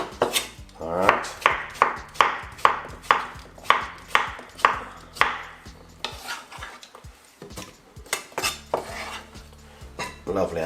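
A knife chops a medium-sized cucumber on a board in a steady run of sharp, close cuts, then a looser, irregular stretch of knocks and clatter.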